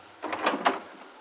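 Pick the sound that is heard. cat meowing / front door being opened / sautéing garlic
front door being opened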